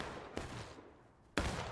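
Two booming cannon shots of canister fired in an American Civil War era battle game, spaced about a second apart, each a sharp blast trailing into a rumbling decay, with no talking.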